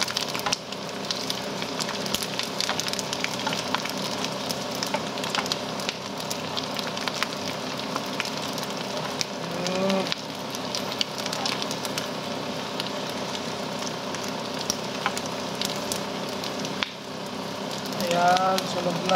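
Cooking fire crackling and sizzling steadily, with scattered pops over a continuous hiss and low background hum throughout.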